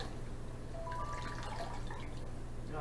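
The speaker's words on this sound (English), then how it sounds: "All I do with this bad boy is wring it out like a sponge" Dirty aquarium water wrung from a filter sponge drips and trickles, a quiet close wet patter that runs through most of the moment over a low steady hum.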